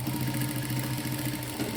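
A sewing machine stitches two pieces of fabric together with a steady, rapid mechanical whirr and fine rhythmic pulsing, close by and uninterrupted.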